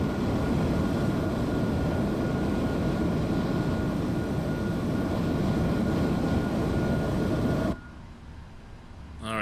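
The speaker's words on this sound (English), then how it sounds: "There's Kevin coming in, and his aircraft over there." A Boeing 777-300ER in a flight simulator on VATSim, a steady loud jet engine roar that cuts off abruptly near the end, leaving a quieter hum.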